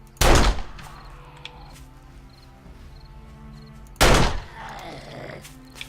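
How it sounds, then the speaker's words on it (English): Two loud, sharp pistol shots in the video game 7 Days To Die, about four seconds apart, each with a short echoing tail over a low, steady in-game ambience. "Let's see if we can't drop him with like 1 pistol shot."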